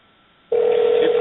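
A telephone rings on an outgoing call: a moment of near silence, then a steady, fairly loud electronic ringback tone that holds to the end.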